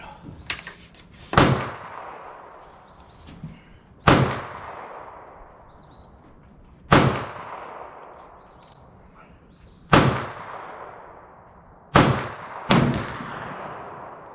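Boomer Ranger Ron's 20 gauge copper sabot shotgun slugs fired outdoors, five loud booming reports a few seconds apart, the last two close together, each trailing off in a long echoing decay.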